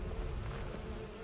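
Bees in the video game Skyrim make a loud, steady buzzing drone that fills the whole moment without pause, close and insistent, with no talking over it.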